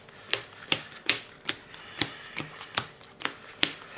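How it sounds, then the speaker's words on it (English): A deck of playing cards being power shuffled, the cards snapping together in a steady run of sharp, close riffles about every half second. "I am going to power shuffle, so you can see that I'm not stacking anything"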